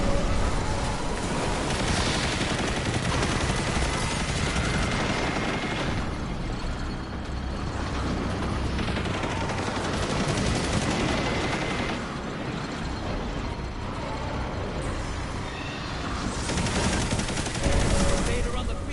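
Rapid gunfire in the video game Destiny 2, dense bursts of automatic shots and impacts stacking up continuously, loud and close, with occasional heavier blasts in between.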